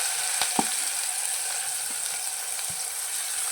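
Onion dropped into hot oil with garlic for a Marathi sukat kalvan, giving a steady close sizzle and fry with a few faint clinks and stirring knocks, no voices.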